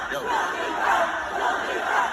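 A concert crowd chants in unison, many voices rising and falling together in a rhythmic, sustained roar.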